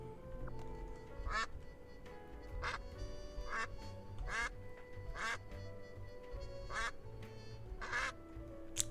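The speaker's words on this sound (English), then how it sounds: "There's a quack button." A duck quack button in the game Duck Detective is pressed again and again, producing about eight quacks at irregular intervals over sustained game music.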